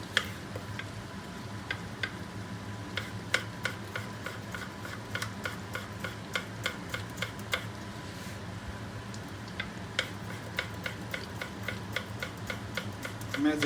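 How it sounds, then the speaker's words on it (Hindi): A knife chops tomatoes finely on a board, making soft, quick, regular taps that run almost continuously, with a brief pause midway, over a low kitchen background hiss. "इसी तरह हम टमाटर अपने काट लेंगे।"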